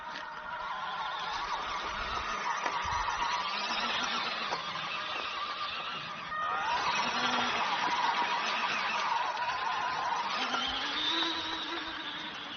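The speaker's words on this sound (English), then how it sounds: "So this thing looks like it's got plenty of power, so it's definitely a 180 motor in there." A 1/12-scale six-wheel-drive remote control US Army military truck with a 180 motor and all-metal gearbox whines steadily as it drives, a continuous motor drone that briefly dips before picking back up, with no talking.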